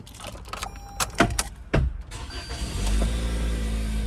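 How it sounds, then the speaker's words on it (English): A 2020 Toyota Corolla Ascent Sport starting up: several clicks and clunks inside the cabin, then the engine catches and settles into a steady, close idle hum, with no voices. "Okay, so I'll start the vehicle up."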